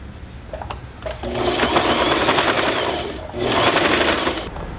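A sewing machine stitches a fabric sleep mask with a steady, rapid mechanical whir. It runs in two sustained bursts separated by a short pause, loud and close, with no talk over it.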